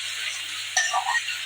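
Tomatoes with turmeric sautéing in a pan give a soft, steady sizzle, with a brief burst of stirring and a metallic clink partway through. No voices.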